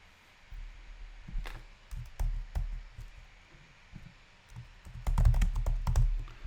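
Someone types on a computer keyboard nearby, with irregular bursts of key clicks, short pauses between, and a denser flurry of keystrokes near the end.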